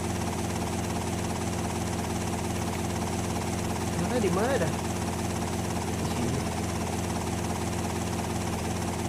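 A helicopter engine hums steadily while the pilot lands on a helipad in GTA Vice City Stories, a constant droning rotor sound under a man's brief casual speech.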